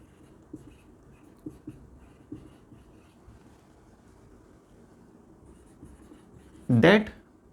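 Someone writes on a board for a science lesson on magnets: sparse, faint scratchy strokes recur over a quiet room, then a short loud burst near the end.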